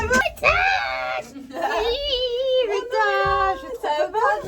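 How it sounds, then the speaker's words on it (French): A woman screams and wails in an elevator in repeated high, drawn-out bursts, loud and close, with short gaps between them. "elle m'a fait hurler dans l'ascenseur"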